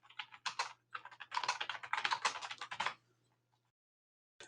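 Keys clack on a computer keyboard in quick bursts as text is typed, one short run followed by a longer, denser flurry, then a pause and a single late tap.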